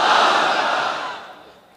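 A large crowd at a religious gathering in Madaripur roars a takbir chant together: one loud, unified shout that swells at once and then fades over under two seconds.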